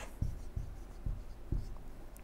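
Chalk or marker strokes on a lecture board, four short scraping taps spaced about half a second apart, fairly quiet with room hum and no speech.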